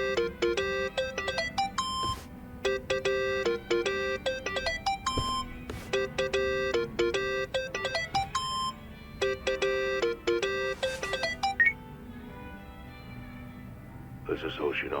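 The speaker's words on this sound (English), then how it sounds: "Think that's your phone, man." A mobile phone ringtone in Yakuza: Like a Dragon repeats in bright, rapid electronic bursts with short pauses, fairly loud and near, over low game ambience, then stops near the end as a new tone begins.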